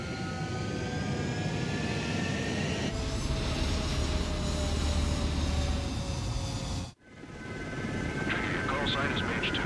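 F-16 fighter jets in Ace Combat 7 roar steadily as they take off from a runway, a loud sustained engine rush with whining tones that cuts off abruptly. Voices seem to be talking over the engine noise.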